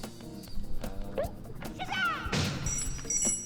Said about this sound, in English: I'm surprised that you walked up to the obvious box stairs and just smashed the first step